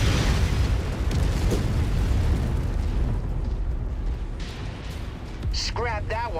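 Explosion of a destroyed target in MechWarrior 5, a heavy booming rumble that fills the clip with sustained low-end roar, followed near the end by a brief chirping electronic tone.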